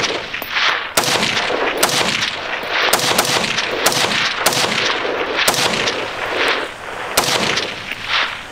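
An AR rifle fired outdoors, about ten loud sharp cracks at a steady, evenly spaced pace, each with a ringing echo tail and no talking.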